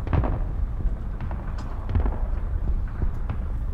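Bombs exploding in the War Thunder tank game, with a dense run of loud, rumbling booms and crackling blasts packed close together, heavy and continuous throughout.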